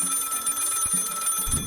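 A telephone rings with a bright, steady electronic warble that repeats close and clear, with a low thump just before the end.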